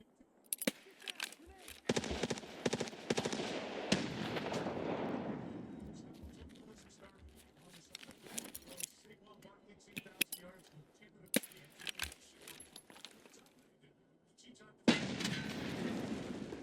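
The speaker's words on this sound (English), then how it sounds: "I think I might have killed him with that grenade" A grenade goes off in a video game with a heavy boom that rumbles and fades over a few seconds, followed by scattered sharp gunfire cracks, while a player talks.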